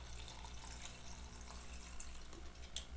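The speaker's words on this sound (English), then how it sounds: "I'll pour some Sprite in here" Sprite poured into a container, a steady fizzing trickle of liquid heard faintly and continuously, with a few small splashy accents near the end.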